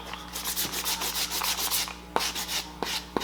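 Brand-new 80 grit sandpaper scuffing a fiberglass-coated foam axe prop, steady rapid back-and-forth rasping strokes close up, with a few sharper scrapes toward the end.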